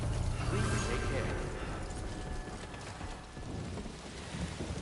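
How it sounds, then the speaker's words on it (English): Steady timefall rain in Death Stranding 2 hisses as a dense, continuous wash with low rumbling underneath, constant throughout at moderate level. "timefall's the rain"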